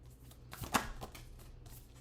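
Moon oracle cards are shuffled for a reading: a few soft, quick riffling bursts, close and faint, with near silence between them.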